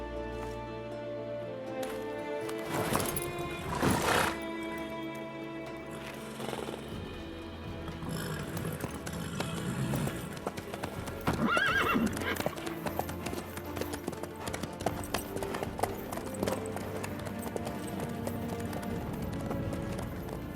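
Horse hooves clip-clop in the Witcher game in the city of Vizima, a steady rhythmic trot heard close, mixed with other game sounds and a brief whinny-like tone.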